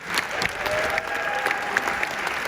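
Audience applause for euphonium player Mitch Lindner at a Fox High School Concert Band winter concert, a steady wash of clapping that stays even throughout with no voices over it.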